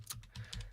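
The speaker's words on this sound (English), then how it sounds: "so just let me type it in." Quick keystrokes on a computer keyboard, a short burst of soft, faint clicks at an even pace with no voices over them.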